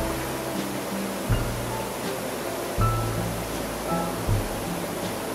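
Steady broadband rush of water at Kuang Si waterfall in Laos, a constant roar with faint tonal hums and soft thumps drifting over it, no voices.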